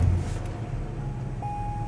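Chevrolet Corvette Z06 with leaf-spring suspension driving, a steady low engine and road rumble heard from inside, with a faint tone creeping in partway through.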